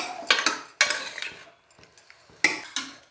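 A spoon scrapes and clinks against a cooking pot in a few sharp bursts with short pauses as a freshly salted mixture is mixed on a gas stove while making South Indian dishes like kootu or sambar.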